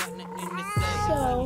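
Shadow, a tabby alley cat, meows loudly and close by in a drawn-out, wavering call that shifts pitch partway through, with no talking.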